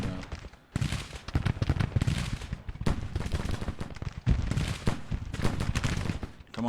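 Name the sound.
musket gunfire of regiments shooting, from a video game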